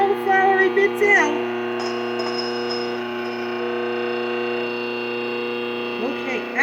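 A Mockmill 100 grain mill runs on after grinding rice flour, a steady electric motor hum with sustained tonal whine, fairly close. Brief rubbing and clatter come at the start and end.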